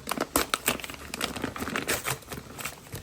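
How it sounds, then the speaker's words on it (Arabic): Plastic bag of pasta being opened close up, a run of sharp crinkling and rustling bursts that continues unevenly throughout, with no talking. "هنفتح بقى كيس المكرونه الحلو ده"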